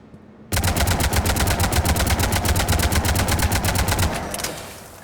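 An Avenger assault rifle in Mass Effect 3 fires one sustained automatic burst of evenly spaced, rapid shots for about three and a half seconds, loud and close, then stops with a short fading tail.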